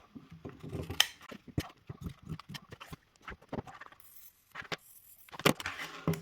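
Scissors snip through fabric and a zipper in a sewing workroom, giving a string of short, sharp crisp cuts in an irregular rhythm, fairly quiet and close.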